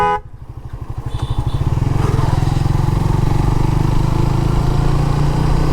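A motorcycle rides a rural village road in the remote river char lands of Sonagazi, its engine starting with a quick clatter, then settling into a steady, loud, close throbbing drone that runs continuously with no talk.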